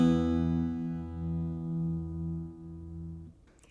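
Open strum on an acoustic guitar tuned with every string to E except the B string, a single ringing chord sustaining and slowly fading with gentle beating, alone until it cuts off at the end.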